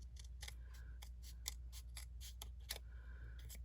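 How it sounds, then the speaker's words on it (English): Scissors snip along the edge of a paper card piece, a quiet series of short crisp cuts in uneven rhythm, close and alone with no talk. "I'm going to see if I can peel this and just trim that edge a little bit."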